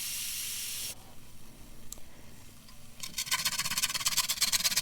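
Marinated chicken grilling in a frying pan: a steady hiss and sizzle, broad and moderately loud, easing off briefly before crackling spatters pick up again close by.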